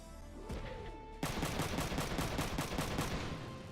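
Rapid automatic gunfire in Front Mission 3 pounds at a mech's left arm. A quieter lead-in breaks into a loud, sustained stream of evenly spaced shots that continues to the end.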